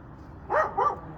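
A dog gives two quick close barks in a row, loud and clear over a quiet background, with no talking.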